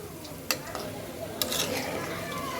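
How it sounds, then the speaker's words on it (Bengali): Fish frying and being stirred with spices in a pan on a home stove, a steady sizzle with a few sharp clinks of the spatula against the pan. "মাছটা কষুক, মশলার সাথে একদম ভালো করে মিশে যাবে মাছটা।"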